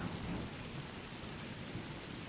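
Heavy rain pours down with rumbling thunder in the stormy Tempest Layer of Donkey Kong Bananza, a dense, steady wash of storm noise throughout.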